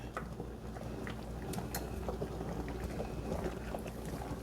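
Steak pizzaiola simmers under a lid in a cast iron skillet, a steady low bubbling with scattered small pops and sputters, close and continuous.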